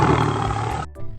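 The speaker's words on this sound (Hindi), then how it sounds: "यह सोचकर उसने एक तेज दहाड़ लगाई" A lion gives a loud, close roar, a single growling blast lasting under a second that cuts off sharply, used as a sound effect in an animated jungle story.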